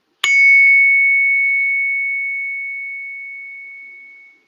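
A single bright chime is struck once, a clear ringing tone that sustains and slowly decays over about four seconds, alone and close.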